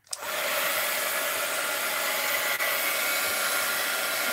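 A hair dryer drying artwork runs at a steady, loud whoosh from a sudden start, with a brief dip partway through.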